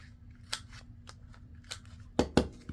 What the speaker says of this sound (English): I think on my tags I should just trim the bottom corners on both of them